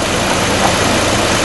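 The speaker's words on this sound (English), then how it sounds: "while the engine's idling" A Hummer H3's engine idles with a steady, close, broadband rumble that holds even and unbroken throughout, with no speech over it.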